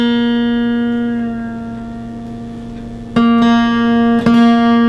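A guitar being tuned with two strings sounded together at the 4th fret: a loud, steady sustained tone rings and slowly fades, then two fresh plucks restrike it a second apart, with no talking.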